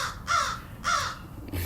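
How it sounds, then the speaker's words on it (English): A crow calls twice in harsh, drawn-out caws about half a second apart, fairly close and loud, with a faint outdoor background and no voices. "Kind of looks like they got a crow over there that wants to get on YouTube."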